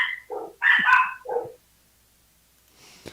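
Several dogs bark close by, four or five sharp barks and yips in quick succession, then quiet with faint background noise.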